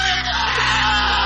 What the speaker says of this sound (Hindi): वो बुरी तरह चीख रहा था, लेकिन चीख घुटी हुई आ रही थी जैसे किसी ने उसका गला दबा रखा हो